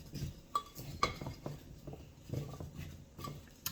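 A utensil stirs a vegan butternut squash skillet mixture in a bowl, making irregular scraping and clinking taps against the sides, close and fairly loud, with no voices.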